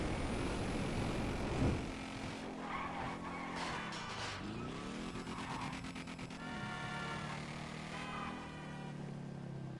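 A car in the GTA V video game firing its nitrous boost, with a rising engine roar and whining, squealing tones sweeping up and down over several seconds, loud and close, with no talking.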